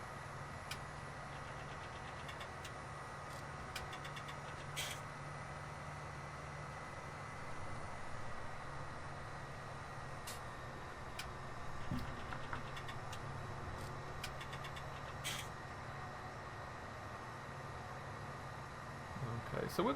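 A tractor engine idles steadily in Farming Simulator 17, a low continuous hum with faint ticking on top, while someone talks over it throughout.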